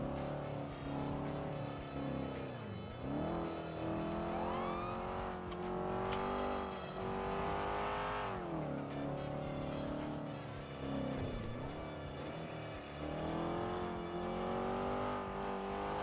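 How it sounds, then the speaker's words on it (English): A car engine in GTA 5 roleplay runs with a steady, rattling drone, its pitch sweeping up and down as it revs and eases off, with occasional brief clanks over the continuous mechanical hum. "This engine is rattling too."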